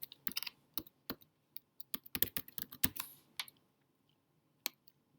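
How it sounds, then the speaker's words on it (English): Keystrokes on a computer keyboard in bursts of quick, sharp clicks at close range, pausing briefly then ending with a few scattered taps, with no talking. "So let's type the answer in right here, the words in."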